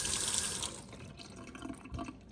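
Water runs from a tap onto washed peppers, then trails off into faint drips and small trickling splashes, quiet and close.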